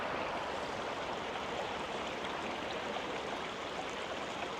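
River rapids rushing steadily, a continuous, even roar of churning water with no pauses or voices.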